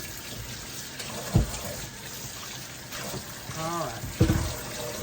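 Apples rinsed under a running kitchen tap, with a steady wash of flowing water and a few brief splashes, while a person speaks briefly over it.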